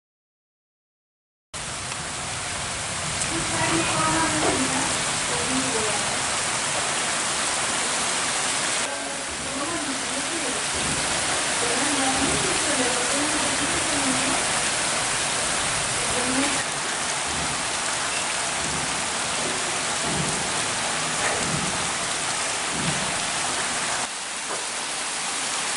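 Heavy monsoon rain pours down in Darbhanga, a dense, continuous hissing roar close by that barely varies for over twenty seconds, with faint voices buried underneath.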